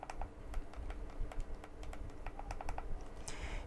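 The two analog sticks of a game controller are pressed down in a run of quick, light, close plastic clicks, irregular and fairly sharp, with no voice over them.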